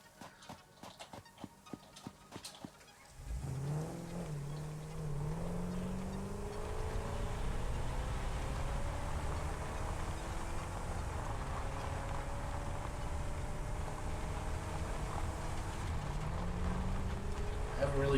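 A vehicle in the factory-building game Satisfactory rumbles steadily over rough terrain, its low engine drone starting after a few seconds of clicking and continuing at an even, close level throughout.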